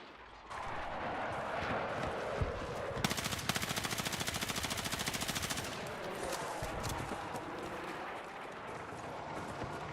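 Rapid automatic gunfire from a video game, a dense rhythmic burst of shots in the middle, with scattered single shots and constant game noise before and after, loud and close.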